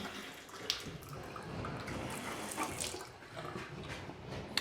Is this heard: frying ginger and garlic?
no